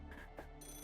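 A ringing telephone in the game Fate/Grand Order, Shinjuku chapter: a steady electronic ringtone with sustained harmonic tones, moderately loud and continuous through a brief moment, with no talk over it.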